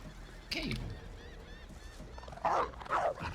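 A chicken in the fantasy role-playing game Divinity: Original Sin gives short honking, squawking calls in a few bursts, moderately loud over a low game ambience.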